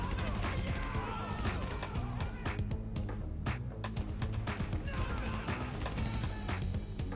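Rapid gunfire in a GTA Online shootout, dense bursts of shots cracking over a steady rumble of game sound, continuous and loud throughout.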